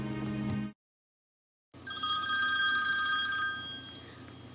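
A telephone bell rings with a bright metallic trill, cut off by a second of silence, then a louder, sustained electronic ringing that lasts several seconds, close and without any voices.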